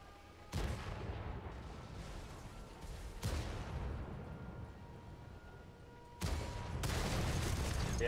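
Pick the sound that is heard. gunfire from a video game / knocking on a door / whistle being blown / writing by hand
gunfire from a video game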